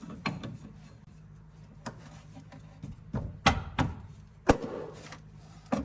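A wrench works loose a tie rod jam nut on a Toyota Prius, giving a handful of sharp metallic clicks and knocks at irregular intervals, close and moderately loud against a quiet background.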